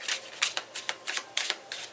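Tarot cards being shuffled by hand give quick papery riffles and flicks in an irregular run of about ten short bursts, close and crisp, with no talking.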